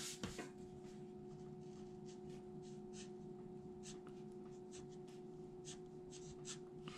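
Pen strokes scratching out a graffiti name on a sticker, a series of short, quiet scrapes in an irregular rhythm over a steady low electrical hum.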